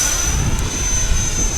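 An FMS Viper 70mm electric ducted-fan RC jet making a low gear-down pass, a loud steady rushing whine with a sharp high tone, close by throughout the short stretch.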